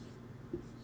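Pen scratching across paper while working out a manufacturing account, a soft continuous scribble with one brief firmer stroke midway, close and quiet, no talk over it.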